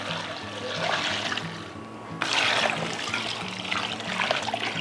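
Water pours from a vessel over chicken bones and vegetable scraps in a pot, a continuous splashing trickle that swells midway and carries on steadily, close by and without talk.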